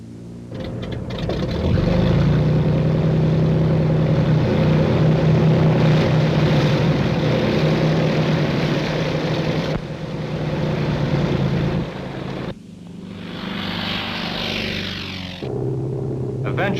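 T-28 propeller trainer aircraft in flight, a steady loud engine drone and prop rumble, continuous with slight shifts and cuts, with a voice speaking over it at times.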